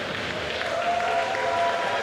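Broad, sustained roar of a wrestling crowd in Manchester cheering and clapping for their champion at a RevPro British heavyweight title match, dense and continuous, with a faint commentator voice underneath.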